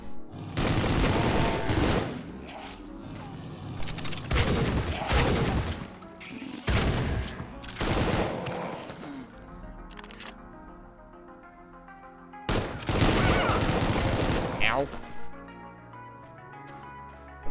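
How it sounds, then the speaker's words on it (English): Bursts of gunfire aimed at the player in the early-access shooter Supplice, loud clustered volleys separated by short quieter gaps with lingering game ambience, no talking. "Surprise, I'm getting shot at again."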